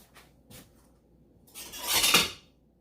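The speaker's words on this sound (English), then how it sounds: "I'm going to get a knife" Metal cutlery clinks in a kitchen as a knife and fork are picked up: a couple of light taps, then a louder, longer rattle of silverware and dishes lasting about a second before it settles.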